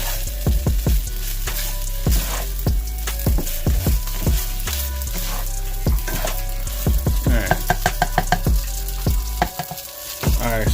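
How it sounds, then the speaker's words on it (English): Rice fries in a pan over medium heat, a loud, steady sizzle broken by sharp clacks and scrapes of stirring throughout. "You got to fry it for about 7 minutes on medium heat."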